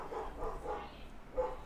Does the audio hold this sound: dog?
yes